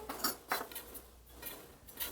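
Finely julienned garlic and ginger are scraped and moved into a bowl, giving a few soft clinks and scrapes of utensil against dish, close and fairly quiet, with no talking.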